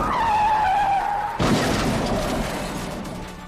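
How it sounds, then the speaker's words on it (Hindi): A car skids in a dramatic accident sound effect for a Hindi ghost story: a loud sustained tire squeal, then an abrupt crash impact with a rumbling noise that trails off. "उसकी गाड़ी का एक्सीडेंट हो गया"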